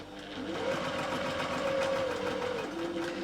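A sewing machine stitches fabric with a steady, fast mechanical whir and a faint hum, running continuously and close by without any talk.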